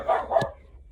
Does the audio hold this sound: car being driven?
no